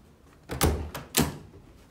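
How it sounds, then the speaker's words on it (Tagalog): Someone knocks on a door indoors: a few dull, muffled thumps, two heavier blows about half a second apart with a lighter tap between them. "May kumakatok."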